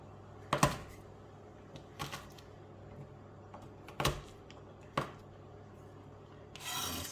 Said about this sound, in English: So squash your garlics.